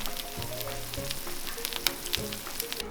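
Thai coconut pancakes (khanom krok) sizzle and crackle steadily in a hot pan, with intermittent soft scraping and tapping from a small spoon, close and without talk.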